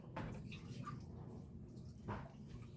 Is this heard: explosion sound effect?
no